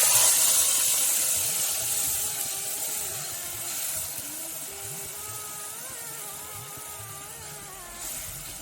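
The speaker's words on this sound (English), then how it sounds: "the seeds are starting to pop in the pan, so we can go ahead and add our tomatoes" Mustard seeds popping and tomatoes sizzling in a hot pan while making chana masala, a steady close hiss with faint scattered crackles that slowly eases over several seconds.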